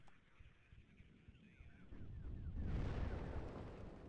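Distant gunfire and artillery explosions in the WARNO strategy game, scattered rumbling booms that swell into a heavy low roar of bombardment, with faint whistling shells before it.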